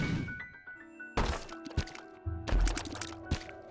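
In the video game The Binding of Isaac Rebirth, a secret room wall is blasted open, giving a few dull thunks and cracking crashes with short tonal game effects, loud against near silence.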